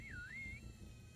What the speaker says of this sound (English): It's a whistle like in Assassin's Creed